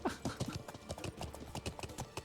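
Horse hooves clip-clop at a steady walk in the medieval MMO Life is Feudal. The beat is even and rhythmic, moderately close and fairly quiet, with no other sounds around it.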